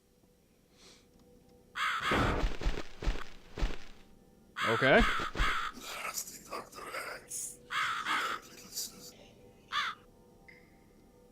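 Harsh, loud cawing from a crow in the video game The Cat Lady comes in several bursts over a few seconds, mixed with a brief spoken word.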